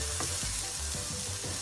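Ground beef and onions fry in a frying pan with a steady, dense sizzle that holds close and loud throughout, no voices over it.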